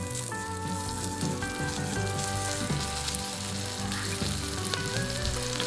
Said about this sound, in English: sautéing the other half in the Instant Pot for a few minutes before pressure cooking it